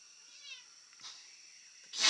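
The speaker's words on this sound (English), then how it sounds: "The cat's yelling at us because he wants his dinner and we're not feeding him." A house cat meows for its dinner, a couple of faint, thin cries in a quiet room, followed by a short, louder burst of noise at the end.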